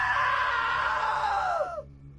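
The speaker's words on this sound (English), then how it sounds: "Now that was a great scream." A long, shrill scream from a character in the video game What Remains of Edith Finch, loud and sustained for nearly two seconds before falling in pitch and cutting off, with no talk over it.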